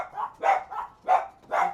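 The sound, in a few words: pet dachshund barking at a Chronopost delivery driver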